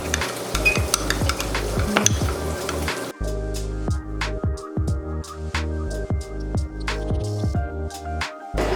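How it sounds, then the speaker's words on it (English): A garlicky al pastor mixture being stirred and scraped, likely in a cast iron pan, with steady clattering utensil strokes and light sizzling, close and fairly loud with no talking. "that's gonna be garlicky, and we're gonna mix that together"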